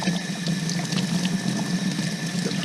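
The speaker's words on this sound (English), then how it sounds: "Just rinse them off under the water." Water running steadily from a tap while engine parts are rinsed clean, a continuous splashing hiss that stays close and even throughout.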